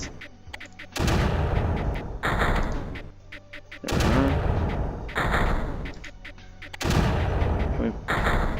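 Blaster turrets fire at creeper in the strategy video game Creeper World, with dense bursts of rapid, booming shots in three sustained volleys separated by brief quieter gaps of clicks.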